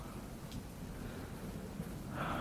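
A downpour of rain with low thunder, a steady soft wash of rainfall under a faint rumble, swelling slightly louder near the end.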